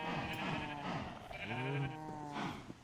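A Minecraft sheep bleats in a game several times in a row, with wavering, nasal, fairly close calls over steady game background sound.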